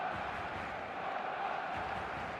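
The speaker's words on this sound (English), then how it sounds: "There's a real expectant buzz in the stadium" Expectant crowd buzz fills a football stadium in the eFootball video game before kickoff, a steady, dense murmur of many voices held at an even level without distinct cheers.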